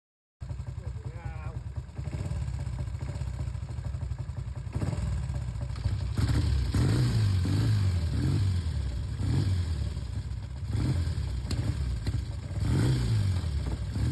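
Old motorcycles riding out together on a weekend trip, engines clattering and revving with rising and falling throttle pulses, fairly close and loud, sustained over the whole stretch.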